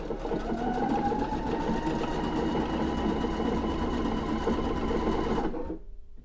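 A Pfaff Creative Icon 2 sewing machine stitches down ribbon in a steady, even whir with fast needle rhythm, running continuously before stopping abruptly near the end, leaving brief quiet.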